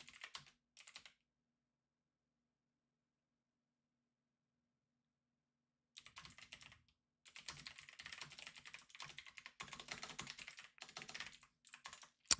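Someone types on a computer keyboard in two spells separated by several seconds of silence: a brief opening burst, then a longer run of rapid, close, crisp keystrokes.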